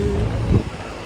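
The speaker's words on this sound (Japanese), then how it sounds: "風強。" Strong wind blows by the Katsura River in Kyoto, a steady, close, roaring buffet that fills the whole moment without a break.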